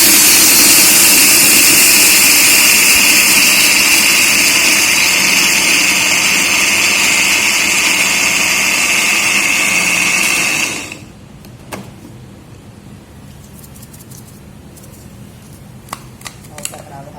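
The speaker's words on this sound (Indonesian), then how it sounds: "karena kita kan ini kan garam laut, dia kan kasar nih sama ladanya, jadi saya akan grind dia dulu" Electric grinder loudly whirring through coarse sea salt and black pepper, a steady dense buzz for about ten seconds before cutting off abruptly, followed by quiet kitchen clicks and taps.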